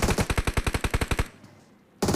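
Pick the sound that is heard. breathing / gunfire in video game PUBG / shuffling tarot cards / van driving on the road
gunfire in video game PUBG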